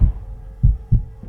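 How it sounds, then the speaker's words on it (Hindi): Heavy, muffled heartbeat thumps in a horror story, three deep low pulses at an even slow pace, loud and close with no voices. "दिल हल्का सा धड़कने लगा"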